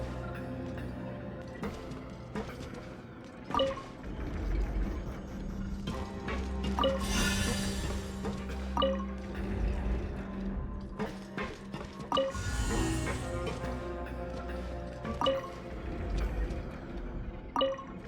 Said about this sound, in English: the water level's gone way up